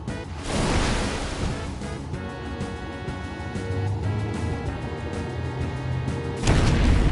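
Water rushes and surges in the Final Fantasy X video game, a dense, steady wash like surf with low booming swells and a faint musical tone woven through it, with no one talking.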